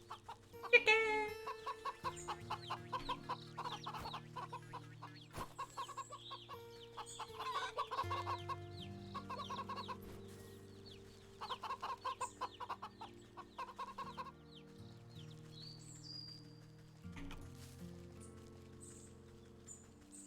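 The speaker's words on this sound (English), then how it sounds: "Chicken!" Chickens clucking in the video game Wytchwood, a string of soft, scattered clucks and short calls over gentle game music, fairly quiet throughout.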